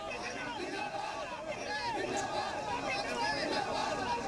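Large crowd gathered outdoors for General Bipin Rawat's last rites, a dense steady murmur of many voices with scattered shouts, sustained and fairly distant.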